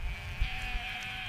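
A sustained bleat from a goat high in the Himalayas above 18,000 feet, sounding clear and fairly close over a light rumble of wind.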